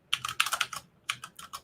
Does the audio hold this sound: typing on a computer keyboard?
yes